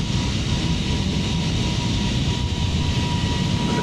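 An aircraft passing by in Microsoft Flight Simulator during an A320neo flight, a loud steady broadband engine roar that holds constant throughout.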